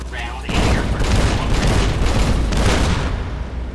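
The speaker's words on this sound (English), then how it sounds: "With the M235 missile launcher, we can engage ground and air" Loud rumbling missile-launcher explosions from Securitron robots' M235 launchers in Fallout: New Vegas, a heavy roaring burst that swells after a short quieter start and holds steady before fading.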